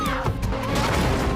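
A car smashes into a window in a show scene, a loud crunching crash with rumbling low impact that fills the whole short moment, heard alone.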